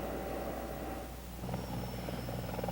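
A CH-54 heavy-lift helicopter climbs out on takeoff with a steady broad rotor and turbine roar, a thin high whine joining partway through as the rhythmic chop grows slightly stronger.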